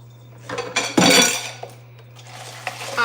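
Smoothie dishes clatter and clink in a kitchen: a few light taps, then a loud burst of ceramic and cutlery knocking together near the start, followed by sparse clinks against a low steady hum.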